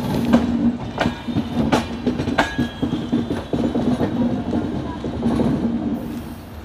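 Paschim Banga Sampark Kranti Express rumbling at platform 2 of a station, a steady low rolling drone with rhythmic wheel clatter and a few sharp metallic clanks.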